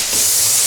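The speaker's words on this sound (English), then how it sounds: "We're just going to give this another little sand down" Light sanding of a painted surface, a short, loud, dry, hissing rub that runs continuously for under a second.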